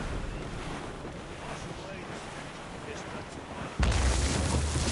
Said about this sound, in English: It's quite a rough squall, Captain.